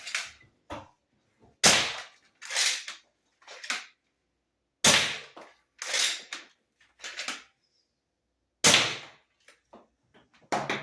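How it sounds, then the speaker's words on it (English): A 3D printed Worker Harrier foam blaster fires a series of sharp, close shots, each a quick crack-and-whoosh burst with short decay, spaced irregularly with silent gaps and a few softer clicks between. "Milo, why don't you rack off a couple shots of that blaster?"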